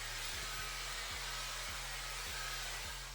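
Hairdryer blowing on a human hair wig, a close, steady roar of airflow over a low motor hum, with small regular dips as the dryer is moved or brushed through.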